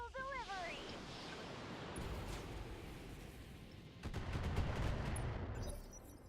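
Mech weapons firing at a turret in the Roguetech battle game, a sustained roar of gunfire and blasts with sharper cracks and a heavier surge of impacts, a brief voice near the start.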